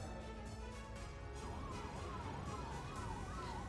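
Ambulance sirens wail at the Ghazipur border amid a farmers' protest, a rising and falling electronic whoop cycling steadily and growing clearer as the vehicles approach, over dense road and crowd noise.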